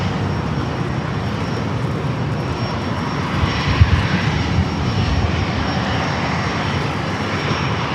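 An Embraer E-Jet airliner arriving at San Diego airport, its engines a steady, broad roaring drone that holds evenly throughout without fading.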